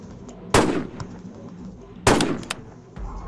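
Two sharp sniper rifle shots ring out about a second and a half apart in the Rainbow Friends gun mod video game, each a loud crack with a trailing decay over a low background hum.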